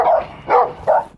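Three loud, close dog barks in an even rhythm, each a short harsh burst with gaps between, from an aggressive dog charging at police officers during a search.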